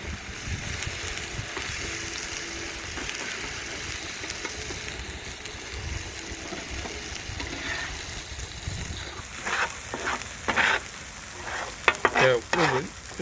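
Chilli sambal paste frying in a pan, a steady close sizzle and crackle throughout, with louder spitting bursts and stirring scrapes toward the end.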